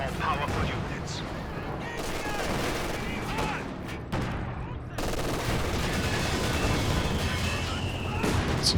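Gunfire and artillery from tanks and infantry in a World War II strategy game, with Tigers, a Panzer IV, an SU-85 and a T70 fighting. Dense, steady volleys and booms fill the whole stretch, with a voice talking over the battle.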